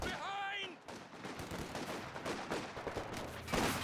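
Rattling bursts of machine-gun and rifle fire from a Company of Heroes 2 battle, mid-distance and dense, mixed with other game effects and a short chirping tone at the start, with a commentator's voice partly under it.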